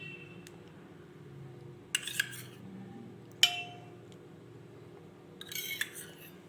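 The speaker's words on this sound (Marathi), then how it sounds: "मी ते 4 चम्मच दही टाकलेलं आहे आणि त्याला छान असं मिक्स करून घेऊ" A spoon stirring yogurt in a bowl makes a few sharp clinks and scrapes against the dish, spaced irregularly over a quiet background hum, with no talking.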